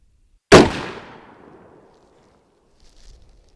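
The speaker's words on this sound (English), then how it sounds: "We'll take about 3 shots and then we'll go down and see." A single sharp report from a Winchester Model 94 30-30 lever-action rifle fired outdoors at a paper target, loud and close, with a long decaying echo trailing off into quiet.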